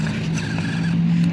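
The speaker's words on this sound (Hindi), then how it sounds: "ये ओ तेरे जॉन डियर का गियर बॉक्स बोलने लग गया" A John Deere tractor's gearbox groans with a steady low grinding hum while reversing with a tanker attached, loud and continuous, with a faint higher whine running over it.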